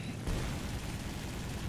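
A machine-gun burst roars from a Ki-44-II Shoki fighter plane in War Thunder air combat, a loud continuous rattle of gunfire lasting under two seconds.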